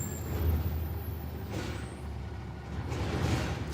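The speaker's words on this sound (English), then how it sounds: "we got a truck outside" A truck outside, a steady low engine rumble with an air-brake hiss around one and a half seconds, heard from a distance through a wall.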